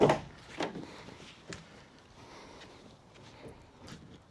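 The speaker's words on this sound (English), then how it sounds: "One nice feature is that the doors open almost all the way to the sidewalls." Rear doors of a 2025 AWD Sprinter van swinging open, a sharp latch clunk at the start followed by a few softer knocks and faint creaks as the doors travel wide, with no voices.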